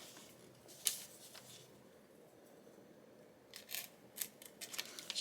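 Scissors cut paper for a collage junk journal, quiet and close: one crisp snip, a pause, then a quick run of small snips toward the end.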